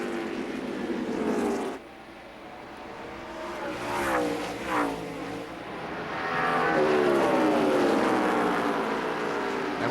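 NASCAR Busch Series stock cars racing in line at Indianapolis Raceway Park roar past, engines swelling and fading as cars sweep by, with loud broadband noise and shifting pitch.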